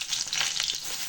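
Chopped onion frying in hot oil with cumin seeds, a dense close hiss and crackle of sizzling that holds steady throughout with slight stirring movement.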